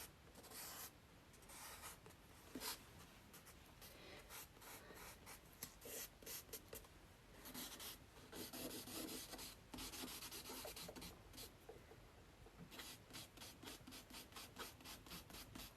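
A pencil sketching quickly on paper, soft scratchy strokes in bursts with short pauses, close and quiet, no talking.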